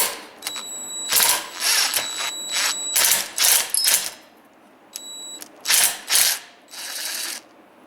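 Impact wrench zipping bolts off a Kawasaki KLT 200C three-wheeler, short loud ratcheting bursts repeated in quick succession with brief gaps, close and alone with a high whine between hits.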